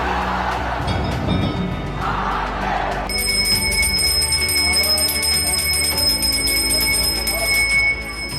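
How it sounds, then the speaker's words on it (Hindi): Temple bells ring during worship at the Gyanvapi complex, a busy metallic clanging over ambient crowd noise, followed by sustained ringing tones that hold steady for several seconds. "मंत्रोच्चार, घंटा घड़ियाल, शंखनाद।"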